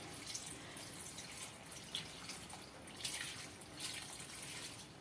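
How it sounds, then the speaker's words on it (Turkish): Fresh drinking water poured into a plastic jug for making cabbage pickle, a steady close-up splashing trickle with a few brighter gushes, quiet and without speech. "bidonunuz dolana kadar suyu dolduracaksınız"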